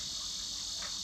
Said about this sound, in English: the cicadas, they are super loud